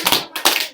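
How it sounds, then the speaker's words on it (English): A class of students clapping together three times in a classroom, two clear rounds of crisp group claps audible in quick succession, close and fairly loud with no talk. "Let's do 3 claps together."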